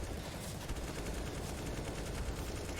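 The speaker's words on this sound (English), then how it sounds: "Shots here and there, but unable to catch anyone down." Gunfire in a Counter-Strike CS:GO match, a dense steady rattle of shots throughout, moderately loud with no talking.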